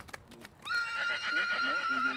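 A Selle Français mare at a competition horse stud in Sarthe, France, lets out a loud, sustained whinny, preceded by a few soft hoof thuds.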